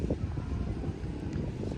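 Wind sweeping along the Mekong riverbank in Pakse, a steady low rushing and buffeting against the microphone that carries on without a break, with no voices.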